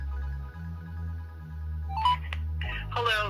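A phone call being placed to Sergio's Pallet Repair: a steady ringback tone pulses low and constant, a short beep and faint voice fragments break in near the end.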